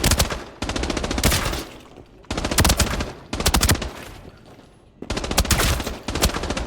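Bursts of rapid automatic fire from an HK assault rifle in the shooter game Arena Breakout, four loud sustained volleys separated by short gaps, with no voices over the shots.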